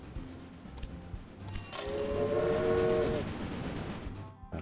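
Trains running on tracks in the Railway Empire video game, a rumbling train swelling and passing with a horn blast in the middle, fairly faint and steady, no voices.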